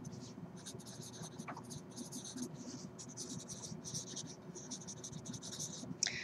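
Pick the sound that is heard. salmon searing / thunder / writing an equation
writing an equation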